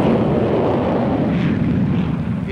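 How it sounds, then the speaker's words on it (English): A Gloster Javelin twin-jet delta-wing all-weather fighter produces a loud, steady jet roar with a broad rushing rumble that swells slightly as it passes. "This Delta aircraft is the Gloster Javelin, a twin-jet fighter carrying full radar for night and all-weather work"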